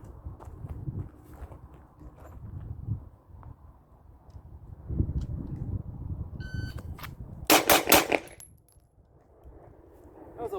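Pistol shots at an outdoor gun range, fired in a tight burst of several rapid, loud cracks, preceded by low rumbling handling noise and footsteps.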